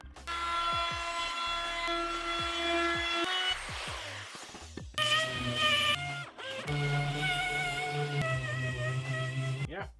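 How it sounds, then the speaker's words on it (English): Power saw cutting plywood sheeting for a DIY aluminum-and-wood truck bed storage organizer, whining in long tonal passes broken by short pauses and clatter, close and loud. "cutting some of this plywood sheeting"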